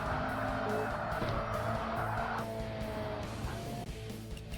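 A race car spins out in the Forza Motorsport video game, with tire squeal and engine tones sliding in pitch over a steady engine drone that eases off toward the end.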